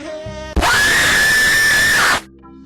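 A Don Post fanged freak mask screamer bursts in on a Toy Story clip: a sudden, piercing, distorted scream blasts at full volume for about a second and a half, cutting over soft background music that returns afterward.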